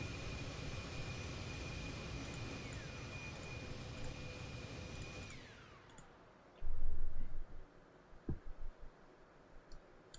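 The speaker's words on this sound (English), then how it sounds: "That is our jet." Jet aircraft engine in the DCS flight simulator, a loud sustained roar with a high whine that winds down and fades after about five seconds, followed by a few heavy thumps and clicks.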